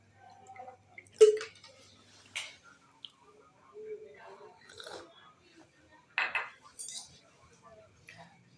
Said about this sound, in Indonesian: Jangan lupa diaduk.